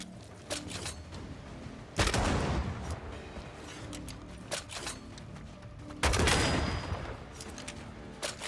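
Gunfire in Banishers: Ghosts of New Eden, with scattered sharp shots and two heavy booming blasts a few seconds apart, loud and close amid a busy combat soundscape.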